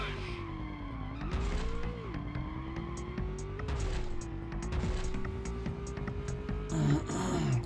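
Racing cars in the Rush 2 video game roar with a steady, rising and falling engine drone, broken by several sharp tire squeals and skids, loud and continuous with no talk.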